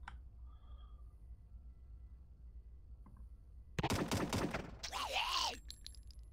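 Burst weapon fire in the sci-fi tactics game Stellar Tactics, a sharp rapid volley of close, loud shots followed by a second crackling burst with a ringing energy tone.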